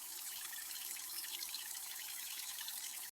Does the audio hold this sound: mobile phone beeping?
no